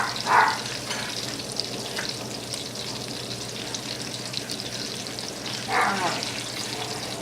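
Pork tenderloins frying in a pan, a steady moderate sizzle under soft kitchen clatter, with two brief louder bursts near the start and end and a short spoken word.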